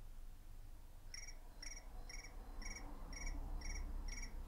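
A cricket that has crawled into someone's ear gives seven evenly spaced, faint chirp pulses over a low rumbling background.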